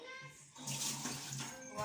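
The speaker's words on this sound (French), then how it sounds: "On va encore nettoyer. Et renverser de l'eau." Water is poured out and splashes steadily into a sink while fish is being cleaned in a home kitchen, a short close rush of running water that swells after a brief quieter start.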